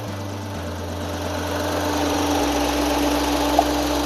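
A 2025 Nissan Magnite engine idling with the AC on, a steady low hum and faint vibration that holds even and unbroken throughout.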